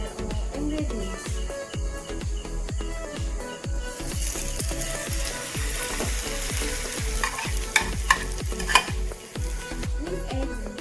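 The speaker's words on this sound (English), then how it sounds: "Put the oil and fry the ingredients." Noodle ingredients sizzle in hot oil while a utensil stirs and scrapes the pan in a steady repeating rhythm, close and continuous, with a few brighter clinks toward the end.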